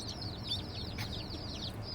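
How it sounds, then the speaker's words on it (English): Baby chicks chirp in a steady run of high, rapid peeps, with a soft low hum of a car interior underneath, no talk. "they have chicks again."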